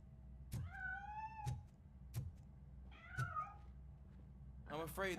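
A cat meows several times in the video game Robocop Rogue City, with short quiet calls spaced a second or so apart and a longer, rougher cry at the end.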